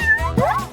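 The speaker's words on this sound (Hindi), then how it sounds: "जेन, मुझे लगता है तुम्हारी बिल्ली मुझसे दोस्ती करना चाहती है।" A cat gives a single drawn-out meow with a rising, wavering pitch, close and clear with nothing else around it.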